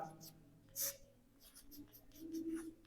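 Chalk or marker strokes on a board while a math teacher works a mensuration problem about circular path areas, short scratchy strokes, one louder burst, heard under quiet speech.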